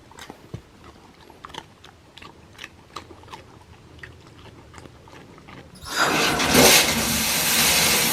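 Close, quiet chewing and biting on a Chomps-style meat stick, a run of short crunchy bites, before a loud broad rush of noise takes over in the final seconds.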